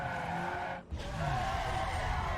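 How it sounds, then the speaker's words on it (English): A race car in Need for Speed Underground 2 hits its nitrous and crosses the finish line, a steady loud engine drone with tire hiss and a brief dropout midway, no talking over it. "Just pop a little nitrous just for fun and across the line."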